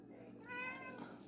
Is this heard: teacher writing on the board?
no